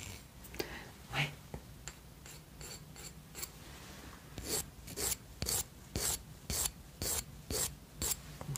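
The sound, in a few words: nail file filing a nail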